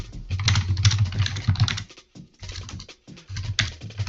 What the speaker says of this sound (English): Who's typing?